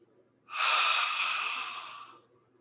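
A single deep, steady inhale during yoga breathing, close and clear, rising quickly and tapering over about two seconds against near silence.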